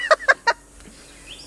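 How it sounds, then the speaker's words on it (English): A bird honks three times in quick succession, loud and close, then goes quiet except for a faint, thin call near the end. "See, it's the bird!"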